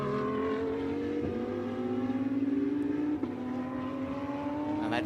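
GT race cars at Virginia International Raceway, one engine note climbing steadily under acceleration with a brief gear-shift break, loud and fairly close, over a background of other cars.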